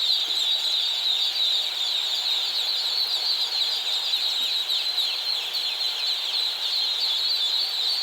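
A box full of day-old chicks cheeps continuously in a dense, high-pitched chorus, close and steady throughout with no talking.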